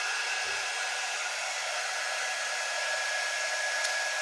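Hair dryer blowing on freshly painted blue stars, a steady loud whoosh holding evenly from start to finish with no talk over it.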